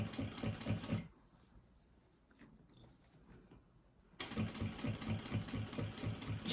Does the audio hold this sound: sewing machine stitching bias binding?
yes